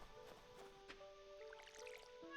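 A watering can in the farming video game Stardew Valley sprinkles water on a villager, a soft brief splash and patter of droplets against a quiet background.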